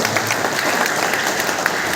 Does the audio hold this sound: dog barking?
no